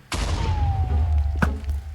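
An explosive arrow round detonating in Minecraft, a sudden loud boom with a rumbling low tail and a whistling descending tone, followed by a second sharper crack near the end.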